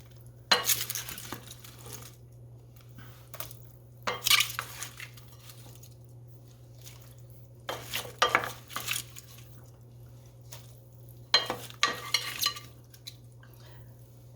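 Celery and other vegetables go into a pot of simmering corned beef broth, with four bursts of clattering and stirring against the pot separated by quiet gaps over a low steady hum.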